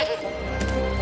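A goat bleats once, a short close wavering bleat in an animated fairy tale about a village menaced by a demon, with no talk over it.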